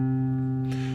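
A single plucked acoustic guitar note at the 3rd fret of the 5th string rings steady and clear, close up and alone.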